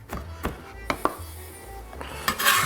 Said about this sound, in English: I'll break that up and just kind of give them a rough chop.